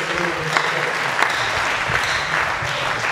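Sustained applause from a large audience fills a conference hall at a September 2018 millionaires' conference, steady broadband clapping throughout with no clear speech.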